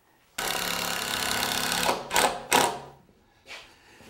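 A power drill drives rust-resistant screws into wooden frames on a deck build, with one long steady whir followed by two short bursts and a fainter final burst, close and loud.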